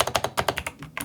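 Steady close-miked typing on an 8BitDo Retro Mechanical Keyboard, a quick run of roughly ten sharp, clicky key presses in an even rhythm, with no voices.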